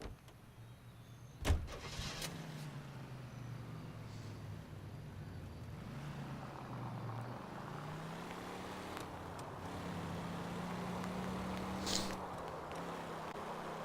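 A car driving in the video game L.A. Noire, a low engine drone rising and shifting in pitch under steady road noise, with a sharp thump early on and occasional brief bursts.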